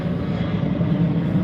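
Boeing 737 jet passing low overhead just after takeoff near an airport, a steady, loud engine roar that holds constant throughout.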